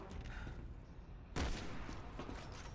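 Gunfire in the Resident Evil 6 video game, with a sharp loud shot bursting in partway through over a busy, noisy game soundscape.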